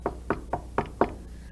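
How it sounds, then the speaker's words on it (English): Five firm knocks on a door, evenly spaced and close, each a dull solid thud, with a quiet room behind them. "She knocked on the door."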